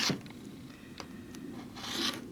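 A rotary cutter drawn along a ruler to trim the edges of a quilt block, a short gritty scraping rasp with a couple of brief crisp strokes, close and steady.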